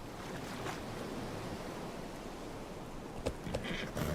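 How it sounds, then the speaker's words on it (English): Steady broadband wash of ocean waves rolling in along a shoreline in Lord of the Rings Online, continuous and moderately loud with no talk. "The waves all coming in."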